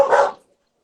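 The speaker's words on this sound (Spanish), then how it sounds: "espera, deja que se callen mis perritos." Small pet dogs at home giving one short, sharp bark, near and loud, then silence.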